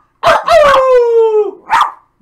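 Luna, a pet dog, gives a couple of sharp barks that stretch into a whining, howl-like yowl, then one more short bark, loud and very close in a quiet room.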